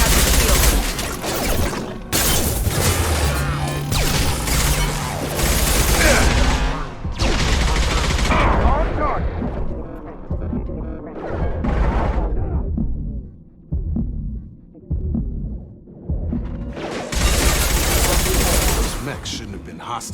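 Rapid gunfire bursts from combat in the video game Mass Effect 2, loud and dense over a backdrop of game music and effects, with brief lulls between volleys.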